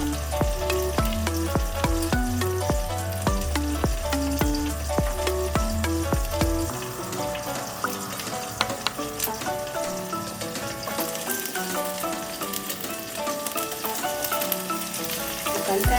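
An egg sizzles steadily in a pan over low heat for a Kenyan-style egg stew, a dense close crackle with occasional scraping of a utensil and no voices.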